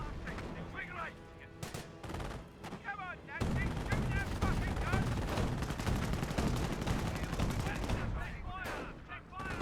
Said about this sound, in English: 25-pounder barrages into the Pensley base